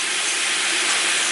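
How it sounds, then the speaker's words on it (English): Collard greens with a turkey neck simmering in a pot as a Thanksgiving side dish, giving a steady, close, even hiss of bubbling and steam that holds unbroken throughout with no voices. "It's all simmering now."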